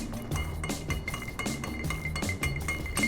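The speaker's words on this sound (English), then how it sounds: "Give it a couple stirs, get it nice and cold." Ice in a mulled spice Old Fashioned cocktail clinks against the glass as a bar spoon stirs it, giving a steady run of close, bright chinks and rattles.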